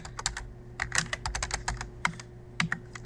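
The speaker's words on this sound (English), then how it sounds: "As you type in your terms, it automatically saves it." Rapid, irregular clicking of computer keyboard keys as terms are typed into Quizlet, close and fairly loud, with brief pauses between bursts and no talking.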